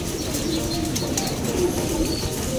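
Racing pigeons on a north road training toss, around 35 km out, with soft cooing and bird calls carried over a steady outdoor background hum. No voices are heard.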